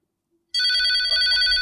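A telephone starts ringing abruptly after a moment of silence, giving a loud, close electronic trill that holds steadily, with a brief dip partway through, in a home comedy scene.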